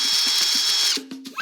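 A power drill bores into a watermelon, a close high whine with rapid rhythmic pulses for about a second before the motor winds down and stops.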